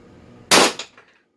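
One sharp, loud crack from a less-lethal launcher firing a Grimburg HP68 0.68 shaped projectile, followed by a brief echoing decay and then near silence.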